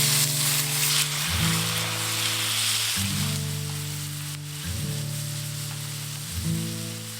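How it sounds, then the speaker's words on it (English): Beef mince sizzles steadily in a pan at a remote Australian bush campsite, a constant close hiss with a stepping tonal music line running underneath throughout. "Let's get the mince on."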